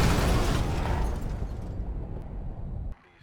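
A nuclear warhead detonates in Call of Duty 4, a loud, sustained roaring rumble that slowly fades and then cuts off abruptly into near silence.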